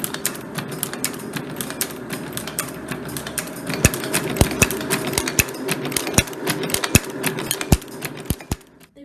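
A century-old jewelry chain making machine running, loud rapid mechanical clacking in a fast steady rhythm with sharp metallic ticks, close up and alone.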